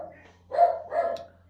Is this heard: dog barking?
yes